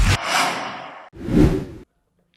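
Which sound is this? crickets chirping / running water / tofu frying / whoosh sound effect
whoosh sound effect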